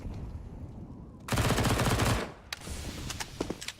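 A loud, sustained burst of rapid SMG fire, including MP9s, rattles through a competitive esports video game match for a little under a second. Quieter scattered shots and clicks follow, with no talking.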